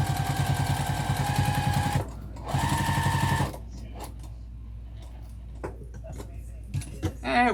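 A sewing machine stitching a vinyl tote bag runs in two fast buzzing bursts, then stops, leaving small clicks and handling noises before a brief last whir.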